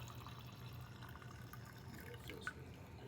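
Wine poured from a bottle tipped nearly upside down, a faint, steady trickle with small gurgles and a brief louder splash near the end, no voices.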